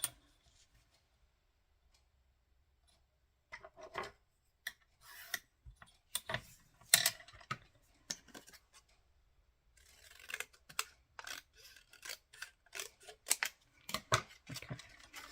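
Scissors cut paper for a paper-and-glue craft project, with quiet crisp snips coming in irregular bursts after a silent start and growing denser toward the end, close by, with no talking.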